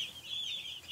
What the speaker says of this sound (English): these are Cornish Cross chicks